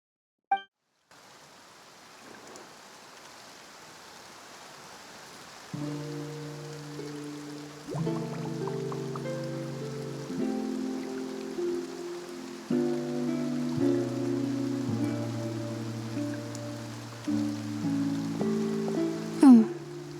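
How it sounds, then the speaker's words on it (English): Steady rain hisses softly across a Fontaine scene in Genshin Impact, a constant wash sitting beneath sustained game music notes. "Looks like rain."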